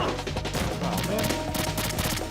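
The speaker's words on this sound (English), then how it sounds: "Please stop shooting me." Rapid gunfire aimed at the player in Metal Gear Solid 2, continuous bursts of automatic shots layered over the game's music and effects, held steady and loud throughout.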